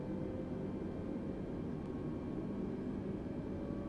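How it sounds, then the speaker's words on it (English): An Air New Zealand Airbus A320neo taxis in Microsoft Flight Simulator, giving a faint, steady, low engine rumble that holds evenly throughout with no other sounds. "Right, push to the right, let's taxi to the end of the runway."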